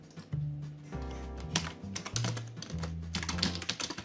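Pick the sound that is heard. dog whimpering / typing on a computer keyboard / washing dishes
typing on a computer keyboard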